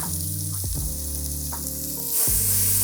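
Chopped onions dropped into hot extra virgin olive oil in a pan, a loud sizzle that stays steady, then swells sharply brighter near the end as more hit the oil, with no voices.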